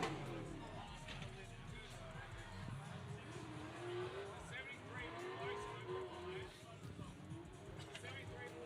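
Race cars battle through the final corner of a circuit, their engines a wavering, moderately distant drone under running commentary and background crowd noise.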